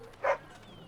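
A dog in the Dragon Age: Origins video game gives a single short, mid-pitched bark, brief and fairly close over quiet game background.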